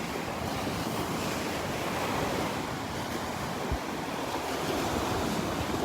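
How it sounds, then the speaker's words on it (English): Steady wind and rolling surf at a Gulf beach at Delnor-Wiggins on a breezy morning with a north wind, a continuous broadband wash of waves and gusts buffeting the microphone, with no voices. "That wind has definitely changed directions, definitely coming out of the north now."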